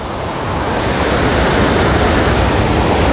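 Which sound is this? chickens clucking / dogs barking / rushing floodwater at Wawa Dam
rushing floodwater at Wawa Dam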